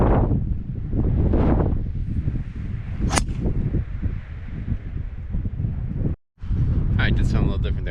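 Steady wind rushing and buffeting against the microphone on a golf course, a loud, continuous low roar with a brief sharp crack partway through.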